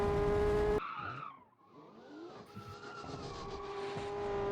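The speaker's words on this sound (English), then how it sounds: "I think that was just about a proper drift there from Stig" A modern muscle car in the Automation racing game drifts with a sustained tire squeal and skid, engine tone shifting and smoking tires screeching steadily throughout, loud and near without talk.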